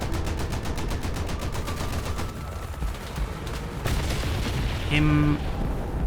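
Rapid bursts of gunfire from a tank firing at aircraft in War Thunder come in quick repeated cracks early on, then a louder boom and a brief tonal blare, with a voice talking over the action.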